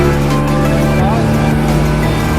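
A motorboat engine roars loud and close as it departs from Digha beach, a steady heavy drone with pitch shifting slightly as it pulls away.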